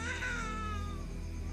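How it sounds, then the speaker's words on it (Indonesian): Baby crying in a thin, wavering wail that sounds almost like a cat's meow, close and sustained over a low steady background hum. "Suara bayi, Bu."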